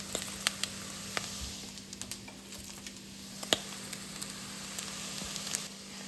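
Spices crackle and sizzle as they drop into hot frying oil in a single pot, a steady close hiss punctuated by sharp pops and spits with no voices.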